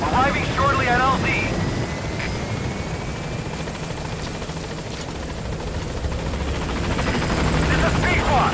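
The Pequod helicopter in Metal Gear Solid V thrums steadily as it arrives at a landing zone, rotor chop and engine drone holding close and loud while radio-style voices talk over it.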